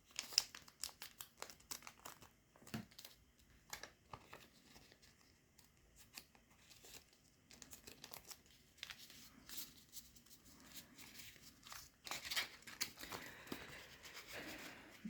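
Paper budget envelopes being folded and creased by hand, giving soft, close crinkling and crackling rustles in irregular bursts, quiet overall with a busier patch near the end.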